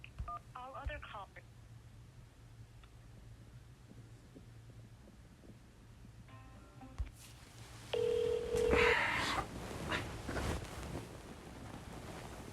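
A phone keypad press sounds as a short tone while a caller navigates a health insurer's phone menu, followed by a louder burst of line noise and a person speaking over the connection.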